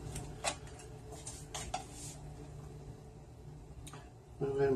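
Salisbury steak is lifted from an oven pan onto a plate, with scattered light clinks and scrapes of utensils against the pan, soft and close, under someone talking.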